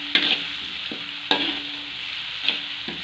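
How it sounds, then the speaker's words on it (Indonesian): Candlenut spice paste sizzles steadily as it is stir-fried in a pan for a chayote dish. A spatula scrapes it in a few sharp strokes about a second apart. "Ini sekarang kita tumis dulu biar matang, karena kita kan pakai kemiri, jadi bumbunya itu harus matang."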